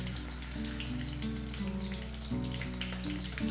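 Fish bajji, Pondicherry-style fritters, frying in hot oil, a steady dense sizzle and crackle that runs unbroken throughout, close and fairly quiet with no one talking.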